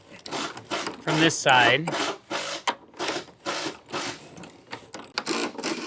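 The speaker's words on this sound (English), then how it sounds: "what I'm gonna do is just hike onto this nut with a pair of channel locks, and then I'm just gonna loosen it" Steel channel-lock pliers grip and turn a nut on a bolt while a wooden deck is being taken apart. The scraping, ratcheting rubs repeat in steady bursts, with one squeaky metallic stretch, and someone speaks briefly over them.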